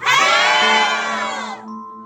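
A tour group in the dark underground tunnels beneath Seattle shouts for help in unison, one loud, sustained group yell of mixed voices that fades out after about a second and a half.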